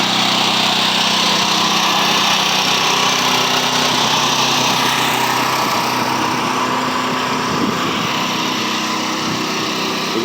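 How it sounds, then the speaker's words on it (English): A brand-new portable generator with zero hours runs steadily nearby, a loud, continuous buzzing engine drone that holds an even pitch throughout, with no voices over it. "Got my bad generator here. 0 hours on it."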